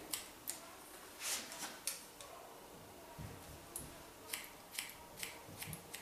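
Scissors snipping a boy's longer hair, a run of sharp metallic clicks spaced irregularly, close and fairly crisp with no voices.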